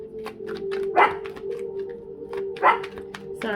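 A pet watchdog barking indoors in a few sharp, loud woofs spaced apart, with a faint voice and a steady low hum underneath.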